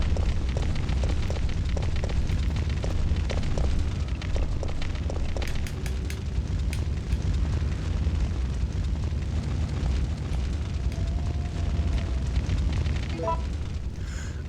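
Steady roaring fire burns in Resident Evil 3, a loud continuous crackling rush with scattered sharp pops and flickers throughout, no voices present.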